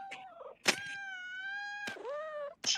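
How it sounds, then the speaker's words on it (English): A real cat lets out a drawn-out, wavering meow between sharp clattering bumps, loud and close, with no talk over it. "I can't believe that was a real cat sound too."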